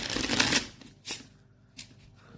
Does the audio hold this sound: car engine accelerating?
no